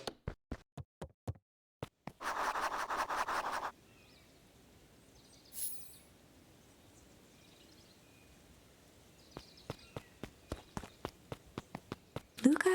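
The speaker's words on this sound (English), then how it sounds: "Luka heard a group of footsteps approaching" Footsteps in the video game Beacon Pines: a quick run of sharp, evenly spaced steps, then a low rumbling stretch and quiet ambience, before another group of steps comes in closer and louder near the end.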